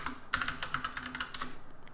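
Fast, light keyboard clatter from a computer keyboard, a steady run of close key presses with no voices.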